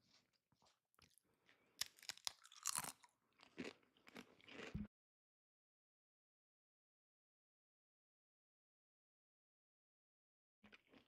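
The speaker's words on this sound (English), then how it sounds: "Sorry that I'm chewing salt and vinegar chips in your ear" Crunchy salt and vinegar chips chewed close to a microphone, a dense run of crisp bites and crackling crunches for about five seconds, then silence until a brief crunch returns at the very end.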